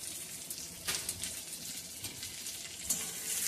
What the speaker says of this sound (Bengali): তেজপাতা দিয়ে এটাকে একটু ভালোভাবে ঘিয়ের মধ্যে ভেজে নিচ্ছি আমি কাজুটা, কিশমিশটা